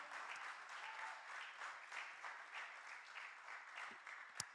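A church congregation applauding, a continuous dense patter of many hands clapping at a moderate distance, steady throughout with one sharp louder clap near the end.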